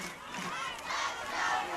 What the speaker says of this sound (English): It is an incredible sight, the cheering from the little ones.